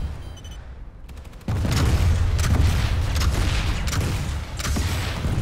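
Striker rocket launcher in Planetside 2 letting loose a volley of locked-on rockets: a burst of loud booming launches and blasts, rolling and overlapping close by after a brief quiet lead-in.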